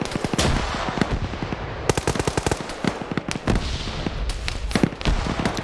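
Bursts of machine gun fire rattle through a video game battle, dense rapid volleys with short gaps, loud and close with scattered single shots between the strings.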